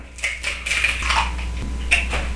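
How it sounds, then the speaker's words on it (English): Two eggs cracked into a mixing bowl for bread pudding, giving light shell taps and clicks, close and clear against a quiet room. "In the bowl you break 2 eggs,"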